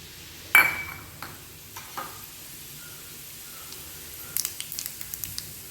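Whole fennel, cinnamon, clove and cardamom hit hot oil with a sharp initial crackle, followed by intermittent sizzling pops and light stirring clinks near the pan.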